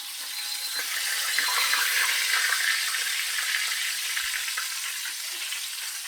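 Southern-style chicken pieces fry in a covered pan over medium-high heat, giving a steady, even hiss and crackle of hot oil that continues without pause.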